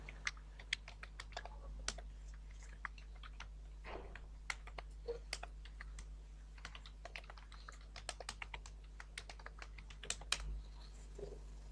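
Someone types an email address on a computer keyboard, a scattered run of faint, close key taps in short bursts over a low steady hum, with no voices.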